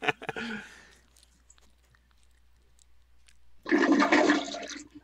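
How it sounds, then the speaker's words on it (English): A toilet flush sound effect, played as a loud rushing burst of water near the end, after some earlier clicks and soft mouth noises. "Was that Greg flushing a real toilet?"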